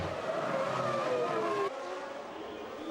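Formula One cars race through the streets of the 2000 Monaco Grand Prix, a loud, high engine whine rising and falling in pitch as the cars rush past, then cutting to a quieter, more distant engine drone.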